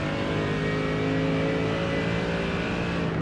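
GT3 race cars lapping Hockenheim in the iRacing sim, engines droning steadily at high revs in a dense, continuous mechanical roar with no pause throughout.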